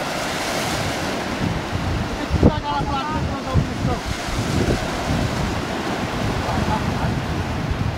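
Ocean surf rolls and washes continuously near a swimmer in the water, with heavy wind buffeting the microphone and a brief splashy surge partway through; faint voices may sit under the roar.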